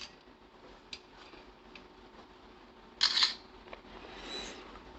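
A DOOGEE X96 Pro smartphone camera fires a single short, crisp shutter click, preceded and followed by faint ticks and handling noise in a quiet room.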